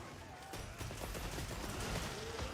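Dragon ammo gunfire in a video game: a dense, rapid volley of heavy shots, loud and close, crackling on without pause for a few seconds.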